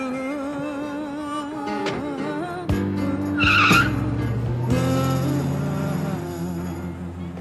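A car pulls away with tires squealing, a rising engine whine and sustained screech building mid-clip before easing off, loud and close with no one talking.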